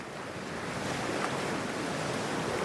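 Ocean water and waves in Cyberpunk 2077 wash in a steady, soft surf hiss mixed with wind, even and moderately quiet throughout.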